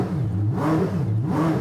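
A car engine gives a couple of quick throttle blips, revs rising and falling twice in smooth swells, close and fairly loud with no talking.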